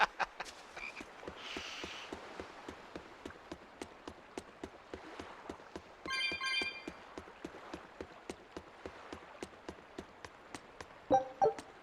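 Frog croaking in the Tales of Berseria video game, heard as a steady run of short, evenly spaced croaks over a quiet background, with brief chimes and game effects breaking in.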